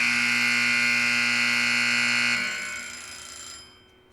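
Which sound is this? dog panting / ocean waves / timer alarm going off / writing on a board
timer alarm going off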